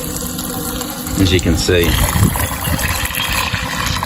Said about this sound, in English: you use the fish water down here, you pump it up into here, into the top